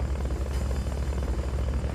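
Helicopter in the video game Metal Gear Solid: Peace Walker, a steady, loud rotor and engine drone with fluttering pulses, alone without talk.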